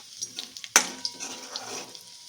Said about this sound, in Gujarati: તેલમાં થોડીક વાર સાતળી લઈશું જેથી એનો કાચો ટેસ્ટ વયો જાય